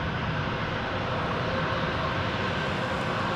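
An airliner's jet engines roar steadily through a takeoff roll on runway 36 right at DFW Airport, a loud, continuous broadband rumble that holds for several seconds with no voices.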